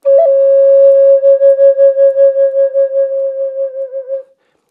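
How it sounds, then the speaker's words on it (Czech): A Native American flute holds one steady, pure tone with a gentle pulsing vibrato, then its volume gradually fades away, played alone with no other sound. "Takže jedna z možností je nechat tón zvadnout."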